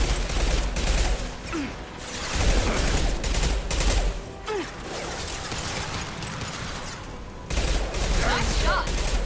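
Sustained bursts of rapid gunfire from the video game Mass Effect 2, loud and dense with mechanical clatter and short pauses, mixed with game effects and occasional voices.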